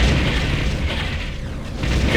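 An enemy structure blown apart in a real-time strategy battle, a loud sustained rumbling blast with crackling debris filling the whole moment, with no talk over it.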